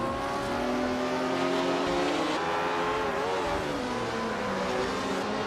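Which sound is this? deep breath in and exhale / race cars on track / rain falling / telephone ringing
race cars on track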